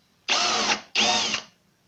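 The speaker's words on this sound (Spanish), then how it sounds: "Ahora voy a hacer lo mismo con una broca para metales" Power drill with a metal bit boring into MDF to make a countersink, two loud close bursts of about half a second each, a steady whirring grind with a brief pause between them.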